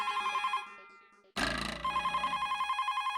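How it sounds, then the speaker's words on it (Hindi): A telephone rings in a Hindi household scene, a steady repeating electronic ring with a short break in the middle before it resumes, close and clear with no talk over it. "ओ रामजी काका का फोन आया वापस"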